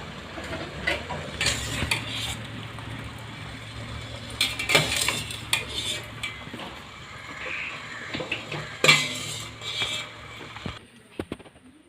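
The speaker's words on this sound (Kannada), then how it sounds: "ಈಗ ಇದನ್ನು ಸೋಸ್ಕೊಳ್ತೇನೆ." Boiled, cut baby corn being strained through a kitchen strainer, heard as scattered metallic clinks, scrapes and soft watery rattles at close range, with no talking.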